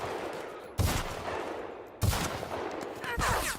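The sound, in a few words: gunfire from The Outer Worlds video game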